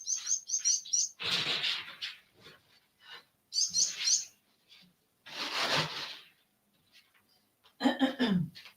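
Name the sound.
birds chirping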